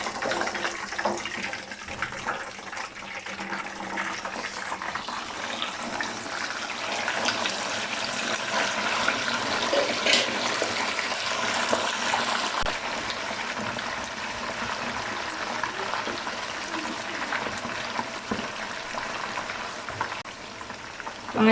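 A whole Lahori chargha chicken fries in hot oil in a pan over a low flame, giving a steady, loud, broadband sizzle that holds evenly throughout.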